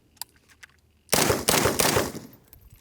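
Rapid bursts of close, loud gunfire from an Arsenal SAM7SF AK rifle, several quick shots tearing out after a quiet lead-in, with a few faint distant pops before.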